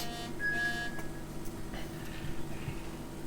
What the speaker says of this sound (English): Someone's texting my phone like crazy.